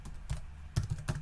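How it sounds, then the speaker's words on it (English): Fingers tap out a short burst of keystrokes on a computer keyboard while entering text into an Excel spreadsheet cell, four or five crisp clicks, close and clear, with no talking. "I can type something in here"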